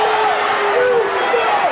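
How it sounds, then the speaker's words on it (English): Loud basketball crowd at a high school game between Gate City and Powell Valley, a dense sustained roar of fans reacting to a referee's call, with a voice rising over the noise. "listen to the crowd"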